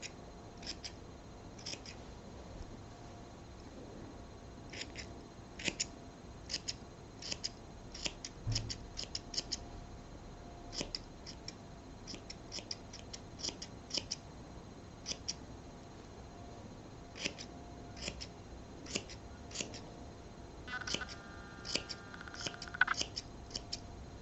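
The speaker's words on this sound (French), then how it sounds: "on va couper, on va égaliser un peu la fleur" Scissors snip and trim the edges of a fabric velvet flower, evening it out like a pompom; crisp, close, quiet cuts come in irregular clusters, sometimes quick runs of snips, against a low room hush with no talking.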